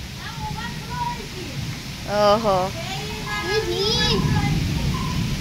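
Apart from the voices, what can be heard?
heavy rain falling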